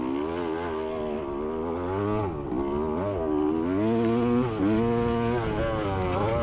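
A motocross dirt bike engine in a video game on a Renlow MX track, a loud, continuous buzzing drone that revs up and down in rapid waves, with short dips as the throttle is chopped and reopened.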